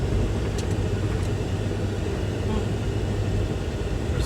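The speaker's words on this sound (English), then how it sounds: "We're driving in the mountains." A car drives along a bumpy mountain road on a camping trip. A steady, dense rumble of engine and road noise runs throughout, with a few faint rattles on top and no clear voices.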